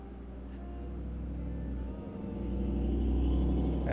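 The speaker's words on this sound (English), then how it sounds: "That is a truck." A truck passes by outside, a low rumbling drone that swells slowly and grows louder toward the end, heard alone with no speech.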